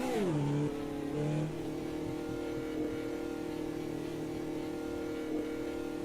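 A race car engine in the sim racing game Automobilista 2 revs high, drops through a couple of quick pitch falls, then settles into a steady droning hum, moderately loud with no talking.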